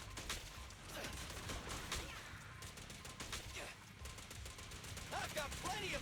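Rapid, steady gunfire from the video game Zenless Zone Zero, with quick repeated shots layered over busy combat noise, fairly dense and continuous throughout.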